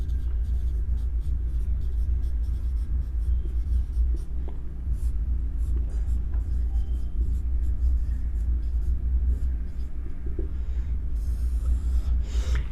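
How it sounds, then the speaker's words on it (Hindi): A heading is written on a board: steady scratchy strokes in quick irregular bursts over a continuous low rumble of room noise. "किशोरावस्था के सिद्धांत हेडिंग डाल के उनको भी लिख दे रहा हूं।"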